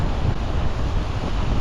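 Strong wind buffeting the microphone beside a river during salmon fishing in Iceland, a loud steady low roar with constant rumbling gusts.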